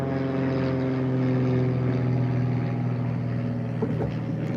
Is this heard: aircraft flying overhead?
yes